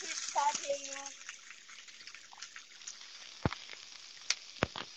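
Food sautéing in a pan while Indonesian dishes are cooked: a continuous sizzle and crackle with a few sharp pops and clinks. A voice talks briefly near the start, and the sizzle runs close and steady underneath.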